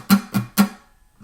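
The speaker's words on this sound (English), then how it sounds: "Rest your fingers on top of the strings, don't fret anything, and then do some muted strums." Three quick muted strums on an electric guitar, fingers resting on unfretted strings, each a short percussive chunk with a damped low thump, evenly spaced and close, followed by silence.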